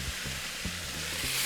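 Vegetables sizzle and brown in a pot for a pot roast, a steady close frying hiss with soft periodic stirring knocks underneath and no talking.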